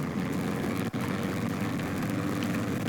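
A propeller aircraft with its flaps down flies in a video game, giving a steady, continuous engine drone that stays close and even. One brief dropout is the only break, and no one speaks.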